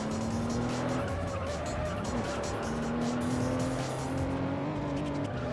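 A Toyota Supra in the racing video game Juiced, its engine droning steadily with shifting pitch and tire squeal, loud and continuous throughout.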